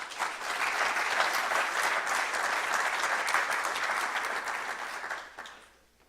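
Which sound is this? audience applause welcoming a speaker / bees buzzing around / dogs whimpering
audience applause welcoming a speaker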